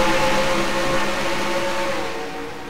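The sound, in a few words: race cars on track in a racing video game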